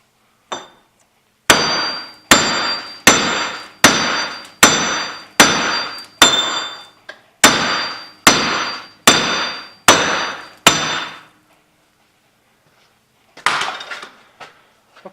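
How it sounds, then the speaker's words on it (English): Repeated hammer blows on a Jeep Commander wheel bearing hub, a steady series of about eleven loud, ringing metallic strikes at an even rhythm, then a pause and a brief rattle of metal near the end, with no talking. "I'm going to strike the bearing on this lip right here,"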